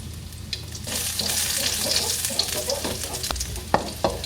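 Garlic hits hot oil in a pan and sizzles loudly and continuously, with occasional scrapes and knocks from stirring.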